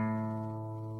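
A guitar's open fifth string, the A string, is plucked once for tuning and rings out as a steady sustained tone that slowly fades over about a second, with no talking.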